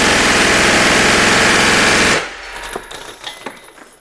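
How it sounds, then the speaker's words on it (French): A machine gun, a PPSh, fires a loud, dense, continuous burst for about two seconds and then cuts off abruptly, leaving a few faint clicks and low rumbles. "Hey! It's a machine gun."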